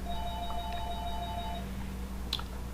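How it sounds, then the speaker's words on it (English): A telephone rings in an indoor setting, a short electronic tone burst over a steady low hum, fairly faint, followed by a brief sharp click. "Here goes the phone again."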